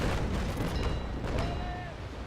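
6-pounder long naval cannons firing in the Naval Action Legends video game, heavy rumbling booms rolling into one another over a constant low roar, with faint whistling streaks overhead.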